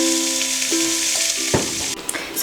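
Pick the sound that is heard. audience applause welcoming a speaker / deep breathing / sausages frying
sausages frying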